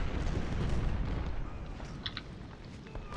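Artillery fire in the Civil War strategy video game Ultimate General: Civil War: heavy, rumbling booms rolling together at first, then fading into a quieter distant battle din with scattered pops.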